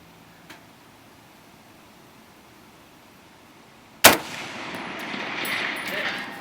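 A single sharp rifle shot from an M1 Garand or M14 fired with iron sights cracks loudly after a quiet stretch. A rolling echo and outdoor rumble follow and linger.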